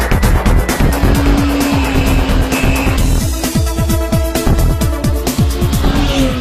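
A 2009 Kawasaki ZX10R sport bike engine revs hard on a race track, loud and close, with rapid gear changes and rising, falling revs in a steady aggressive rhythm, tire noise underneath.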